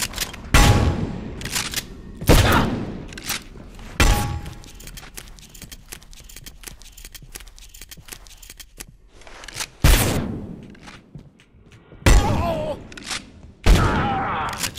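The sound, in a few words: enemy gunshots in video game Abiotic Factor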